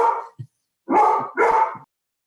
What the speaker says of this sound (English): They're barking at the neighborhood dogs who are walking by.